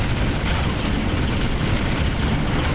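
A building being destroyed in the real-time strategy game Ground Control: Aftermath, heard as a dense, sustained rumbling blast that fills the whole stretch at steady loudness, with no voices on top.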